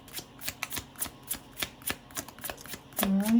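Deck of playing cards riffled and shuffled in a series of quick rhythmic bursts, close and fairly quiet, ending as a voice begins to speak.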